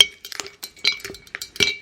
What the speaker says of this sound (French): Les glaçons, bien sûr.